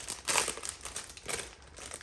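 Thin plastic packaging crinkles close up in a few short, quiet bursts of rustling while a set of small makeup brushes is unpacked.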